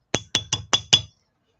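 Five sharp metallic hammer taps on the back of jewelry pieces, evenly spaced and close, each ringing briefly, with no talking.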